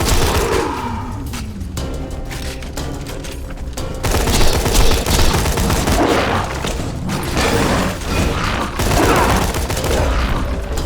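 Dense rapid gunfire in the video game Borderlands 2, loud and continuous bursts of shots with impacts and mechanical clatter, filling the whole stretch with no pauses.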